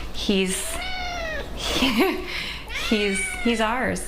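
A pet cat meows repeatedly and loudly up close, several rising and falling calls in a row, while a person speaks briefly between them.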